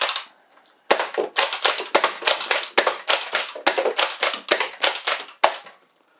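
A Nerf Rival Kronos blaster is primed and fired over and over in a steady rhythm, sharp plastic snaps and clacks close up, about a dozen quick cycles with no talking.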